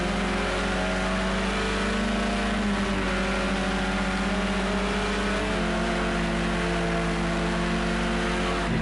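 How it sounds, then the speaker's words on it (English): Touring car racing engine blipping on and off the throttle, a loud, continuous buzzing drone whose pitch rises and dips in waves as the driver lifts and reapplies power, heard close with no voices over it. "Just hear G getting on and off the throttle then."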